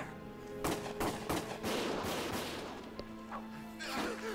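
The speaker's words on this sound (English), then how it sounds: "Gunfire!" Sharp bursts of gunfire crack in a rapid series with heavy, echoing impacts, close and loud, like combat in the video game Valkyria Chronicles.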